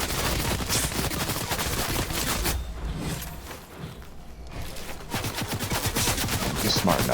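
Rapid bursts of video game gunfire crackle almost continuously, loud and close, with a brief lull in the middle before the firing resumes just as densely.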